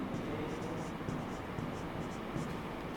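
Chalk or marker writing equations on a board during a chemistry lesson, faint scratchy strokes in short bursts over a quiet, hissy room.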